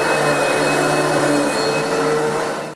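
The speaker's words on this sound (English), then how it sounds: "the vacuum will pull those out" A vacuum cleaner grooming a mule or donkey's coat gives a loud, steady, close whine that holds level before starting to fade at the end, with no talking.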